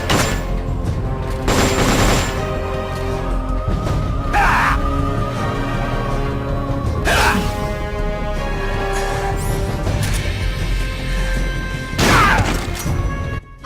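Shotgun blasts in the video game Metal Gear Solid Portable Ops, four loud, sharp booms spaced several seconds apart over a steady game soundtrack.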